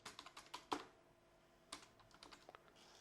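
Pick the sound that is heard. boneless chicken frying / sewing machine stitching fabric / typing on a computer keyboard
typing on a computer keyboard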